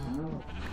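Sheep bleat loudly and close by in a farming video game, a brief wavering cry with a busy background of other game sounds.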